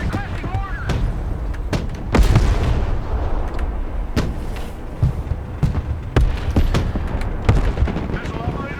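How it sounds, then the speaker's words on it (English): Mortar fire in the military strategy game Broken Arrow, a string of sharp booming reports and thuds at irregular intervals, loud over a rumbling battle background with voices talking throughout. "Mortar engaged"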